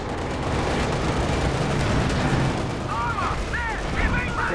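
Tank cannon fire from a Panzer IV and KV in the real-time strategy game Company of Heroes 2, with shots missing and bouncing off armour. Dense, continuous rumbling gunfire and explosions fill the clip, with high whistling shells streaking over near the end.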